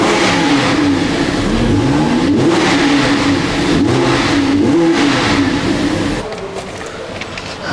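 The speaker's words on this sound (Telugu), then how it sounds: "ఆన్ చేసిన తర్వాత నేను థ్రాటల్ ఇస్తాను, మీరు వినండి R8 LMX ఎడిషన్ యొక్క ఎగ్జాస్ట్ నోట్ ఏ విధంగా ఉంటుందో" Audi R8 LMX edition engine revving hard with a loud, sustained exhaust note that rises and falls in pitch through several throttle blips, then drops to a lower idle near the end.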